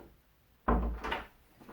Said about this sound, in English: Let me shut my door